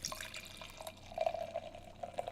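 Stout from River's Edge pours from a can into a glass with a soft gurgling trickle that swells midway and pulses unevenly near the end, close by and alone.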